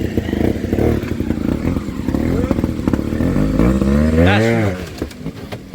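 A trials motorcycle at the Scottish Six Days Trial climbs up and across rocks on a section at Gorton. The engine revs and labours close by, with clattering and scraping over the stones and a rising rev near the end. Spectators talk faintly underneath.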